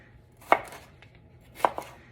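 A knife slicing through vegetables on a cutting board, two distinct close chops about a second apart with a small follow-up tap, otherwise quiet.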